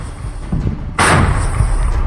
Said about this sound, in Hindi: विनाशकारी बम धमाकों से पूरा इलाका दहल उठा